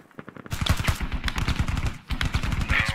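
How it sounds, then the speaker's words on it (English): Bursts of distant automatic gunfire in the video game Squad, rapid cracking volleys in two extended strings separated by a brief pause, sounding far off and sustained. "Some long range fire."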